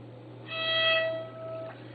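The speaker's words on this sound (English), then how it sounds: "The first string is E, and in its normal octave sounds like this." A single bowed violin note on the open E string sustains for about a second, clear and moderately quiet, over a faint background hum.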